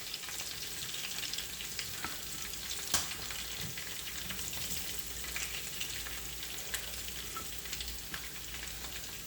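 Chicken pieces coated in Kashmiri chilli masala frying in hot oil for a red chicken fry, a steady dense sizzle with occasional pops and soft stirring scrapes, close and continuous with no voices.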